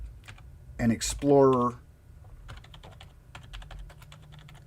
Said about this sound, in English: and then I just typed